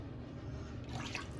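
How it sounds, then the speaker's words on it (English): Water drips and trickles into a shaving brush at close range, soft wet splashes over a low background, with a brighter splash near the end. "I'm just going to drip some more water down in there like Jock did"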